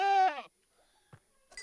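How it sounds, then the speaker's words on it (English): A baby goat in Minecraft Bedrock gives a single short, high wavering bleat up close, then quiet with a couple of faint clicks and a brief rustle near the end. "A cute little baby goat"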